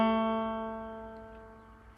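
A banjo rings a plucked note with the middle string fretted at the 2nd fret, decaying steadily over about two seconds, close and quiet, with a small click at the end.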